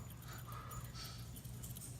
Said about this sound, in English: I got my stupid dog behind me crying for the mother